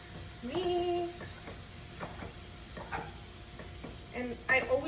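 Lean ground beef and Italian sausage being stirred and mixed in a pan, with a steady soft sizzle of frying meat under repeated scraping strokes of a utensil, close and moderately quiet, with no talking.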